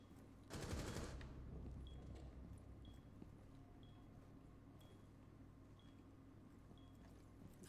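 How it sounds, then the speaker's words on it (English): In Rainbow Six Siege, a short, loud burst of rapid automatic gunfire rings out at close range, followed by quieter game sounds and faint repeated electronic beeps. "I don't know where the shots came from."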